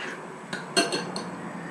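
A utensil stirs liquid into a granola mixture in a bowl, giving a few short scraping clinks against the bowl over a low steady background, close and moderately loud.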